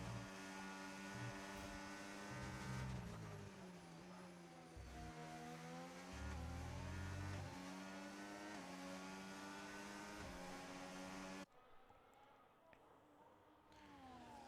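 Race cars run side by side on track in a race at Abu Dhabi, engines droning and whining steadily as they rise and fall in pitch, heard at a distance under a broadcast mix.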